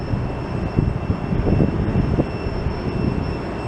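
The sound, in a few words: Southwest Airlines airliner taking off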